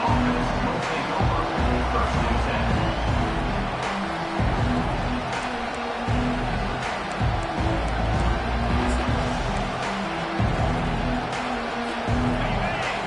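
Stadium crowd in the College Football 25 video game, a broad continuous roar of many voices at steady volume through the whole stretch, with a commentator talking over it.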